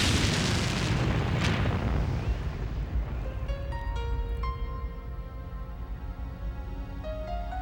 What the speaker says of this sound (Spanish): Abrió la cerradura y levantó la tapa, provocando una mortal explosión.